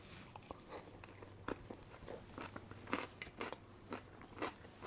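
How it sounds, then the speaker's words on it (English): Close, quiet crunching and chewing of braised cabbage and apples, a series of soft crisp bites and chews at an uneven pace, with no talking. "That cabbage has a nice crunch to it where I really like it"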